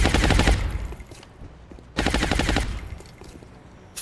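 Two loud bursts of rapid automatic suppressive fire from a video game, each a sharp volley of shots that trails off with echoing decay.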